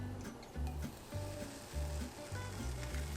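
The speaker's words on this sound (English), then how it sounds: "All right, I've greased my pan. Batter in." Crepe batter poured into a greased hot pan gives off a faint, steady sizzle and hiss that runs throughout, set against a rhythmic low musical beat that pulses about twice a second.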